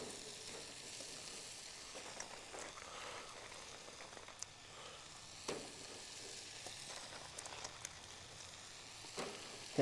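Charred vegetables sizzling in a hot pan, a steady close crackling fry running throughout with occasional small clacks, fairly quiet and without talk.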